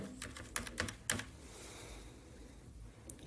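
Quick bursts of keystrokes on a computer keyboard while entering a UPI ID, a short run of clicks near the start, then quiet room tone.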